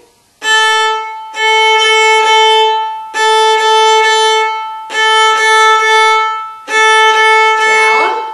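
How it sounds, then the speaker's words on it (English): Violin open strings bowed on the A string in a rhythm of five sustained, evenly spaced strokes with brief gaps between them, clear and close with a rich harmonic tone and no talking. "Here's the same thing on the A string."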